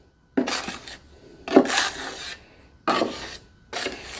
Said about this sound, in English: So mixing your mud up in your pan